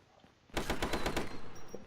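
Rapid automatic turret gunfire in a video game, a burst of about eight fast, loud shots that starts abruptly after a quiet moment and rattles on to the end.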